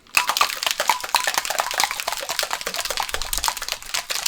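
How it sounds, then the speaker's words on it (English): A cocktail shaker packed with ice, banana and strawberry is shaken hard, producing a loud, rapid rattle of ice clattering against the metal in a steady rhythm for several seconds. "We have ice in the other part of the shaker. Close that up nice and tight. And you're going to get a really good shake"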